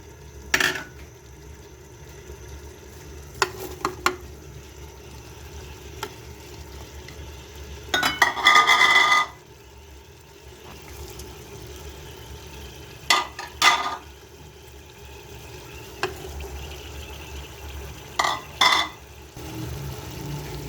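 Mutton keema fries in ghee in a pan with a quiet background sizzle, broken by several bursts of stirring and scraping, the longest and loudest near the middle.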